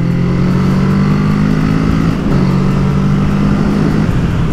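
A Kawasaki A2-licence roadster motorcycle accelerates with its engine droning loudly and continuously up close, its pitch rising, then briefly dropping at a gear change before climbing again, with no voices.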